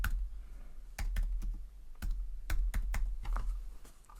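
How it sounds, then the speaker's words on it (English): Keys clatter on a computer keyboard as a word is typed into a text box, a quick uneven run of close, crisp taps with short pauses between bursts and no voices. "I'm going to type out the word photographer"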